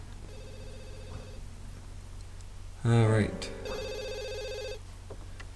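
A game phone rings in a couple of short bursts in a family life-sim household, loud and close, with a brief spoken word nearby and steady background music.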